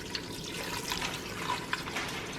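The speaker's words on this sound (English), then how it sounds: "pour over 2 cups of water" Two cups of water pour over a layer of dried bow tie pasta inside an Instant Pot, a soft, steady splashing hiss with a few faint drips, heard up close and without speech.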